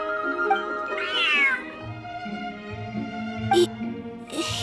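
A cat in Genshin Impact lets out a few clear, close meows, one rising and bending in pitch, over a soft game music backdrop with steady tones, followed by brief sharp clicks or chimes.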